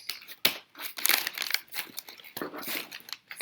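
Gift wrapping is crinkled and torn open by hand, giving a busy stretch of close crumpling and ripping paper noises with uneven bursts and no talking.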